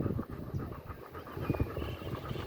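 A dog, thought to have a tick, pants quietly in short rhythmic breaths close by, with faint background noise and no speech.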